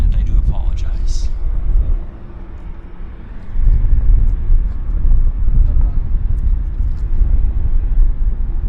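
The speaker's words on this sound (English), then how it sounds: "Oh, Korean Airlines. We can get the Korean takeoff." Korean Airlines airliner taking off at Vancouver Airport, a loud low rumbling roar that swells after a brief dip, with a voice talking over it.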